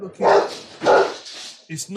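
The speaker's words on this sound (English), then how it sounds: "my dog's just seen the postman and gone absolutely batshit crazy" A dog barking wildly at the postman, two loud, drawn-out barks close by followed by a shorter yelp, with someone talking nearby.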